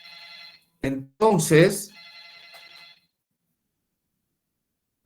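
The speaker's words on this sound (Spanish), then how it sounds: "Alguien llama por teléfono." A telephone rings during a university lecture on deformation analysis, a clear electronic trill in short bursts before and after someone briefly speaks, then the room falls silent.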